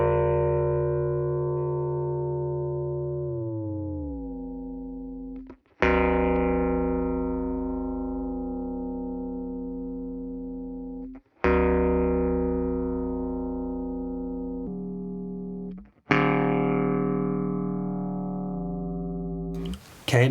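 Guitar's open A string runs through an Eventide H9000 ring modulator set to an emote-style algorithm: four sustained, metallic, pitch-warped notes, each struck and left to decay before the next.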